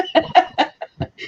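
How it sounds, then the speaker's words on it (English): A chicken gives a quick series of about six short, close clucks in an uneven rhythm, loud and alone. "Chicken."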